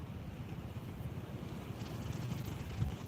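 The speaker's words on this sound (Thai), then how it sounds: "ลมมันแห้งเด้ทุกคน" Wind gusts steadily across an open rice field, a rough, buffeting rumble that presses against the microphone and swells slightly toward the end, with no voices.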